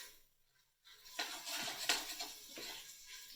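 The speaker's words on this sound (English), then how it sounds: "Stir it up." Onions being stirred in the steel pot of an Instant Pot, with a utensil scraping and clinking against the pan in a steady rustling run after a quiet start, close up and without talk.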